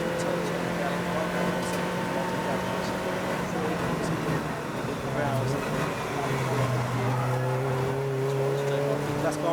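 Race cars in a 750MC club endurance race at Donington GP roll into the pit lane, a steady layered engine drone with rising and falling tones as cars pass, continuous and fairly loud under a commentator's voice.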